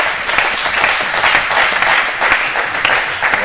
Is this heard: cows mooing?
no